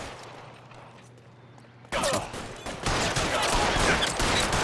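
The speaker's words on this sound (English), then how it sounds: "that's shots fired" Rapid bursts of gunfire from an L.A. Noire shootout erupt suddenly and stay loud and dense, a sustained volley of overlapping shots with no talking.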